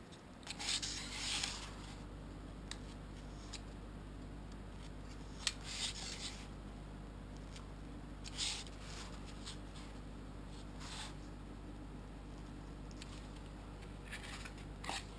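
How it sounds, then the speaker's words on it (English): Craft knife cutting out the middle pieces of a printed paper part template from Flite Test plans, with quiet intermittent scratchy slicing strokes close up over a low steady background hum. "You start cutting out the middle pieces."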